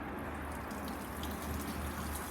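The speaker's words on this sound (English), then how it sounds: "So we're going to pour some water down here on the back side, so it goes onto the back of the air vent" Water poured behind the rear bumper of a 2012 Ford Focus onto the rear air vent during a leak test: a steady, soft splashing trickle, continuous and fairly faint, with no talk.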